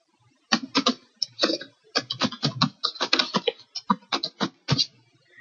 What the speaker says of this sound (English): You type in that email address.